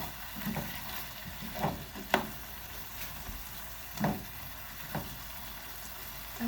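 Carrots and cranberries cooking in a pan, a steady soft sizzle broken by a few sharp clicks and scrapes spaced a second or so apart, close up with no talking.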